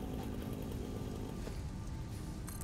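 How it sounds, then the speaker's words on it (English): A chainsaw in the video game Satisfactory cuts through plants, giving a steady, loud, close buzzing engine drone that runs throughout with no talk over it. "I guess that means the chainsaw kind of fuels itself by you destroying things."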